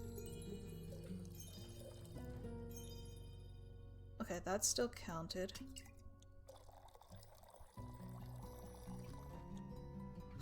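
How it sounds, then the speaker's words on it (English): A soft liquid pour sound plays in the tavern drink-mixing game Tavern Talk under a steady music bed. A voice talks partway through, then the music changes. "For some reason it didn't fill up as I was pouring it."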